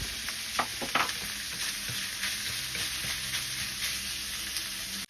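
Radish sautéing with ground meat in a pan, a steady close sizzle with crackling pops and occasional stirring scrapes, continuous and fairly loud with no talking.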